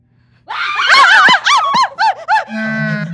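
Several women scream in fright in a burst of loud, overlapping high-pitched shrieks and wails, rising and breaking off over a few seconds, with one voice stretching into a long sustained cry at the end.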